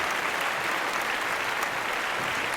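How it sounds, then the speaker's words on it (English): Audience applause during a comic mime performance, a steady, even roar of many clapping hands, moderately distant and unbroken for the whole stretch, with no one speaking. "Hey, was there applause there?"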